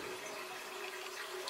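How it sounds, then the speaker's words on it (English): A drinking glass is rinsed under cold running tap water, a steady, faint stream of pouring and splashing that continues without a break, with no voices. "give my glass a quick cold water rinse"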